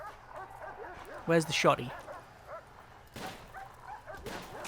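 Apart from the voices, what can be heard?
dog barking and whimpering in the video game Prison Architect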